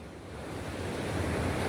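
Sea waves wash steadily onto a beach in a continuous broadband rush that swells slightly louder toward the end, with wind buffeting the microphone and no talking.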